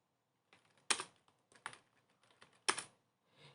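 Key taps on a computer keyboard while Java code is being corrected, a few scattered light clicks with three sharper, louder strokes, close and clear with no talk.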